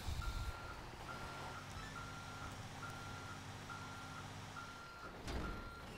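A truck's reversing alarm beeps steadily in a regular on-off rhythm over a low engine rumble while backing up to hook onto a trailer in Grand Theft Auto 5, with a brief louder thump near the end.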